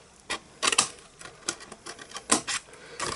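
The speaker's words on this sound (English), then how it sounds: "And now we're just going to cut up to these score lines." Scissors cut through card along score lines while a gift bag is being made, giving a series of short, crisp snips in irregular bursts close by.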